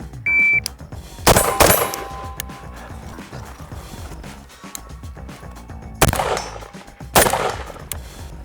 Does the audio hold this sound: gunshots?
yes